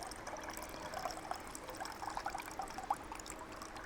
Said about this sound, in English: What you do is just put your bait tub on top of there, pouring the water off